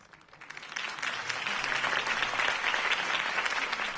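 A crowd in a video game breaks into applause that swells quickly and holds steady, dense clapping filling the space for several seconds.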